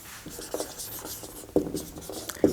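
Handwriting strokes rub and scratch in short bursts during a physics lesson, close and fairly quiet, with a few sharper taps as the writing moves along.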